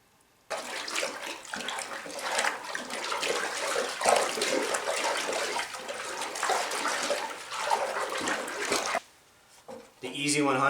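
EZ100 tanning powder being stirred into a water tanning solution: a steady, fairly loud swishing and sloshing of water runs for about eight seconds, then stops abruptly before a short different sound at the end.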